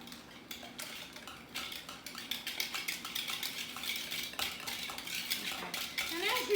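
Apple cider vinegar dressing being mixed with a utensil, quick clinking and scraping of metal against a dish in a steady irregular rhythm, close and fairly quiet, growing slightly busier toward the end.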